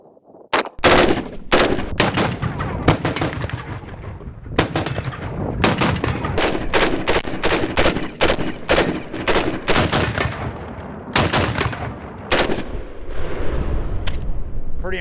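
A Heckler & Koch 416 gas-piston rifle fires outdoors in loud, sharp reports: rapid strings of closely spaced shots broken by short pauses, continuing throughout.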